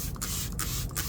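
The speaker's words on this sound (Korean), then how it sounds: "이렇게 물을 듬뿍 두신 다음에 스프레이 조금 해주세요" Three quick hissing pumps of a spray bottle misting water over freshly repotted flowering plants, evenly spaced and close, over a steady background hum.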